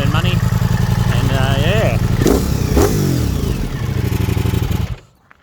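A 2025 Ducati Pikes Peak motorcycle exhaust revs up loudly and close by, climbing to about 5,000 RPM and falling back in a rough, pulsing roar before cutting off abruptly near the end.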